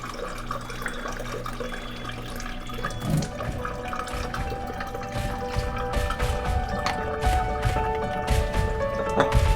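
Treated water pouring from a household water ionizer unit into a collecting container, a continuous splashing, running flow that grows fuller and louder as it fills, with a faint low hum beneath.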